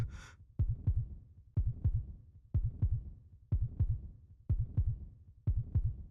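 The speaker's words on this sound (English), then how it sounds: "The heartbeat skyrocketed." A rapid, pounding heartbeat in the visual novel Root Double, steady paired thumps repeating about every three-quarters of a second, close and isolated, with a faint tone at the very start.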